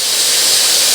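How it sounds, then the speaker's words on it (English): Steam jets from the spout of a pressure cooker holding a ham, a loud continuous hiss that stays steady and close for the whole moment. "You can hear the steam coming out of this spout"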